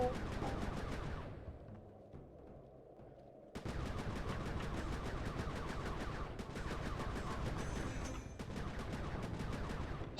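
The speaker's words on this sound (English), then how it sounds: "This turret overheats a lot more than any of the other ones in previous games." Sustained turret gunfire from Sly 3: Honor Among Thieves, a dense rapid stream of shots that cuts out briefly and then resumes at full force for the rest of the stretch, with no talking.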